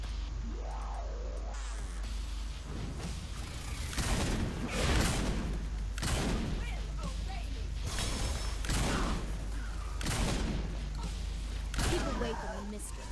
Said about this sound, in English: back to the old shotgun